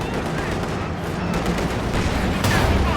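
Tank cannon fire in Company of Heroes 2 booms through a dense, continuous wash of battle noise, with sharp shots standing out over the din and a voice talking under it.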